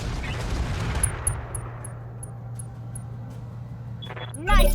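Weapons fire in the Roguetech mod of the BattleTech video game, a dense burst of shots and impacts at the start that decays into a low humming drone, then a sharp rising whoosh near the end.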